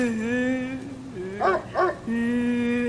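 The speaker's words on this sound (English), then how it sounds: "The dog's growling again" Dog growling and whimpering in the horror game Spirit Hunter NG, a steady droning tone with two short yelping cries in the middle, fairly close and alone without talk.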